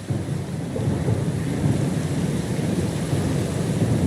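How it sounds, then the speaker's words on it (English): A storm at sea in the video game Pillars of Eternity II, heavy rain pouring steadily with a deep rolling rumble of thunder underneath, loud and continuous throughout. "Lost and alone in the storm?"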